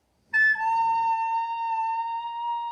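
A recorder sounds a sustained A note, fingered with thumb and first two holes and blown gently; after a brief breathy onset the clear tone holds steady for over two seconds, alone.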